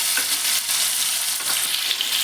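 Ingredients for egg fried rice sizzle loudly in hot oil in a pan, a steady bright crackle with small pops, stirred along without any talking.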